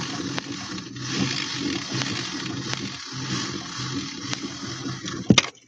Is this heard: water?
yes